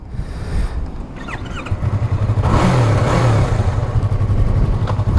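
A 2016 Yamaha R3 motorcycle engine revs up close and loud, climbing from a low idle into sustained throttle with a steady droning tone that holds to the end.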